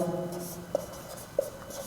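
Pen scratching on paper while working out a rectangle area and perimeter problem, soft continuous strokes with two brief sharper taps, close and quiet, no talking.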